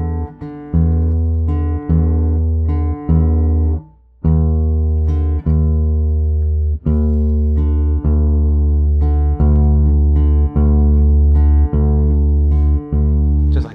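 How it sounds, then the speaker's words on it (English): A guitar sixth string being tuned down to D and sounded against the open D string. Sustained low notes ring and beat against each other, and the strings are plucked again at regular intervals. The sound is loud and close, with no voices. "we should expect that if we're going to tune our sixth string to D, that we can just tune it down until it matches"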